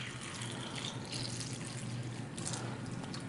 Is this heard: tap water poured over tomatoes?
yes